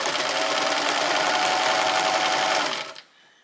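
A sewing machine runs a steady zigzag stitch on jersey knit fabric, loud and close for about three seconds before stopping abruptly into quiet room tone.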